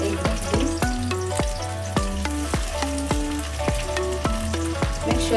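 Egg frying in a pan for a Kenyan-style egg stew, turned with a spoon, gives a steady sizzle under music-like tones, with regular knocks of the spoon against the pan.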